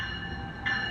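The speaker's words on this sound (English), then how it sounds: "Yep, train 1862, ALP 45." A passenger train, number 1862, hauled by an ALP-45 locomotive with a five-car multi-level set, rumbles steadily nearby with a constant low roar and a high tonal whine that swells slightly toward the end.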